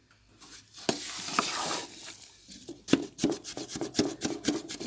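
A spoon stirs jaggery into dal panjiri in a hot pan, with a soft sizzle beneath a series of close, uneven scraping and clinking strokes.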